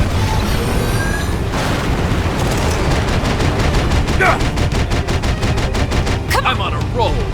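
Sustained rapid gunfire in the Xenoblade Chronicles X video game, a dense stream of shots and booming impacts running continuously at close range, with bursts of mechanical effects over the top.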